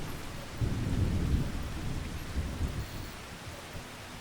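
In-game rain and rolling thunder in Farming Simulator 25, a low rumbling peal swelling and fading over a continuous patter of rain, with no voices.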